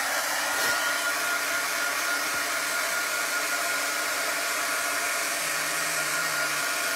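Hair dryer blowing steadily on wet paint over a chalk stencil, a constant loud whooshing whine that holds unbroken from start to finish with no talking.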